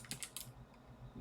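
Quick keystrokes on a computer keyboard while entering form data, a short burst of several close, soft clicks followed by a quieter pause and one last tap.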